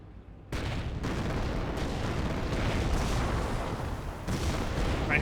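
Company of Heroes battle din as British forces fire on a 17-pounder anti-tank gun: dense, continuous artillery and gunfire rumbling loud from start to finish, with an abrupt onset after a brief quiet moment.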